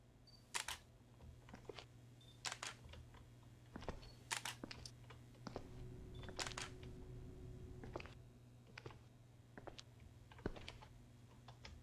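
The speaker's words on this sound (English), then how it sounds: "The camera shutter was triggering itself." Camera shutter clicks from the horror video game Dark Fracture, a series of sharp, irregular snaps spaced a second or two apart over a low ambient hum.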